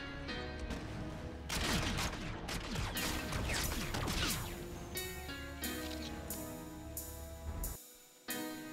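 The M2187 Salvo, an epic-variant weapon in Infinite Warfare, fires a rapid burst, followed by several evenly spaced loud shots over a steady backdrop of game sound.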